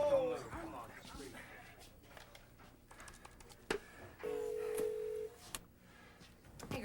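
A telephone being dialed to reach the operator in a workplace, with short tone bursts and a sustained steady tone amid clattering background noise and a voice nearby.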